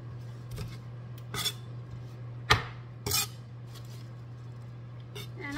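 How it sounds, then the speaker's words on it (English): Spinach being roughly chopped with a knife, scattered sharp blade knocks and clinks against a board at an uneven pace over a steady low hum, close and fairly quiet. "I'm just gonna roughly chop it."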